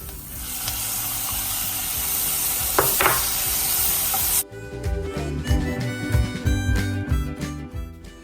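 Chopped tomatoes are stirred into a salted pan for a corned beef and potato dish. A steady frying hiss gives way to scraping, clattering stirring strokes through the sizzle.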